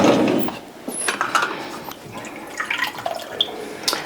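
A small amount of water poured or dripped into strawberry cake batter made without nut flours, seeds or grains, giving soft close trickling and dripping sounds with scattered light kitchen clatter.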